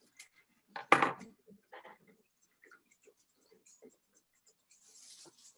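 Making a parol brings one crisp, sharp snip of cut material, then a few faint taps and light rustles in a quiet room.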